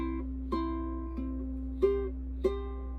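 Ukulele notes plucked one at a time, four or five distinct picks with ringing sustain, played close and alone, open C string.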